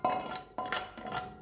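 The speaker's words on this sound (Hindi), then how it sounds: "अच्छे से बर्तन साफ कर लेना है।" A utensil scrapes and clinks against a pan coated with leftover spices from boiling chicken, in three quick metallic strokes, close up and with no talking.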